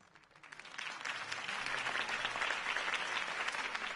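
Crowd applause following a campaign speech in a Batman video game, a steady wash of clapping that swells in after a quiet start and holds at moderate loudness, heard alone.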